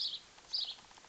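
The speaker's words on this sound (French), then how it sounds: "Les oiseaux." Small birds chirp outdoors in short, high, faint bursts, with a few brief calls spread over about a second.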